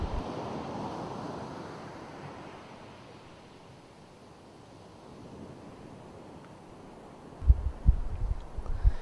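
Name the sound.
ocean waves breaking close to the shore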